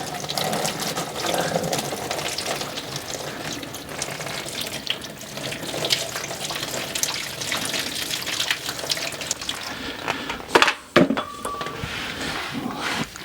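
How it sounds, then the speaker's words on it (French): Hot water runs steadily from a tap over a rusty part in a sink, a continuous close splashing rush with a couple of brief knocks and a louder disturbance near the end. "Et je vais mettre de l'eau chaude dessus."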